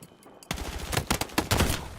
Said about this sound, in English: My gun shoots too far right